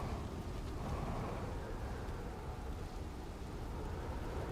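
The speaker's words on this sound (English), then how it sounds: "If that storm comes here, it's gonna take us" Storm noise in the video game Outer Wilds, a steady dense low roar with rumbling, like heavy rain and wind mixed with thunder, holding at an even loudness throughout with no speech.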